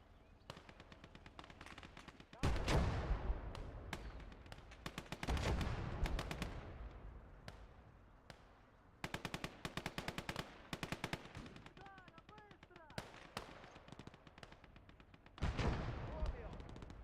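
Gunfire in a Gates of Hell battle from the Finnish side: bursts of machine-gun fire and single rifle shots crack at varied distances, loud and quiet by turns, with some heavier booms, while voices talk now and then.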